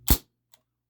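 A single sharp shot from a Ruger P345 CO2 airsoft pistol, loud and close, with a short crack that dies away quickly, followed by a faint tick of the pellet striking soon after.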